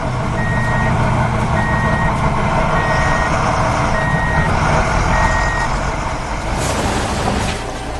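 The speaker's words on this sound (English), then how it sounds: "The yellow truck is lifting its bed." A yellow dump truck raising its bed while the engine rumbles loudly nearby, its reversing alarm beeping in an even rhythm, followed by a hiss of air near the end.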